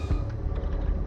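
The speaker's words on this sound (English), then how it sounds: "Elevator." An elevator moving in the video game The Stanley Parable gives a loud, steady mechanical rumble and creak, a dense grinding hum that carries through the short stretch with no voice over it.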